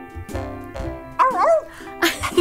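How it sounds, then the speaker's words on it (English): A dog barks and yips in short bursts alongside a playful children's preschool segment with music, loud and close, with brief speech around the barks. "this is my best dog, Stormy Jane"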